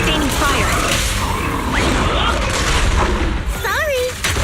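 Sustained gunfire and combat effects from the video game Zenless Zone Zero, loud and continuous with mechanical clatter and whooshes, while a voice speaks over the action.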